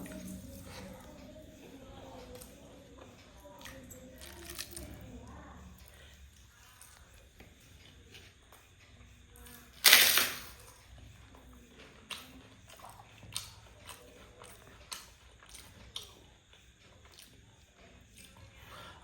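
Someone eating leafy greens dal with crunchy appalam at home, with soft chewing and mouth sounds, a louder crisp crunch near the middle and a few sharper bites afterward, close and fairly quiet.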